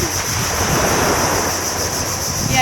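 Ocean waves wash continuously onto the beach at Kurma Muara Badak, a broad steady surf hiss with wind buffeting the microphone and no voices.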